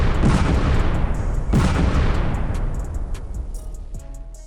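Heavy booming cannon fire and bomb blasts roll over a dense, rumbling barrage, with two big impacts about a second apart and fainter sharp cracks scattered after them.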